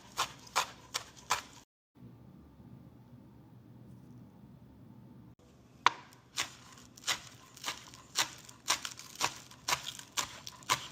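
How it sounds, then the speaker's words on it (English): A knife chops fresh parsley on a board in quick, sharp, rhythmic strokes: a short burst, a quiet pause of several seconds, then a longer steady run of close chops. "Chop some fresh parsley."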